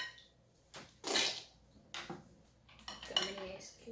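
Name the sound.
leftover ice cubes scooped out of thickening jello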